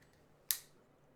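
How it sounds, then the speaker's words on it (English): A single short metallic clack as a pair of scissors is shifted aside on a desk, one brief close snap in an otherwise quiet room. "I got to move these wacky scissors out of the way"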